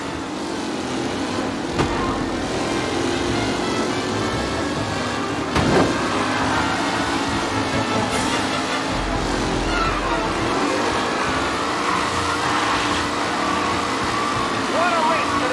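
Race cars roar along a track on the final lap in Mafia Definitive Edition, a loud continuous engine drone with passing surges, and a voice speaks over the noise.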